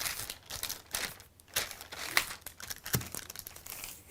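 Paper sewing sleeve pattern folded by hand, a run of soft crinkling and rustling bursts with a few sharper crackles, close and fairly quiet, no voices.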